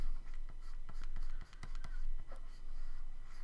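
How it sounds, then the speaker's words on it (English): An ink pen scratching across paper as a bug robot drawing is outlined, with steady soft strokes and a few sharper taps, close and fairly quiet. "I was more or less drawing with an ink pen, so to speak."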